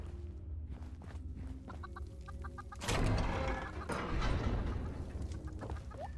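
A chicken clucks in the video game Fallout 76, a few short clucks near the start, followed by a louder burst of rushing game noise that continues underneath.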